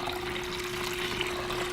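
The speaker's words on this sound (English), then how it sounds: "I'm going to use half a gallon of water here, and I'm just going to pour that in slowly there" Half a gallon of water poured slowly into a container makes a continuous splashing, gurgling trickle with a steady tone running underneath, close and even throughout.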